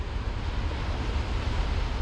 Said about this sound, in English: seeing the way these waves like fly in the air over these rocks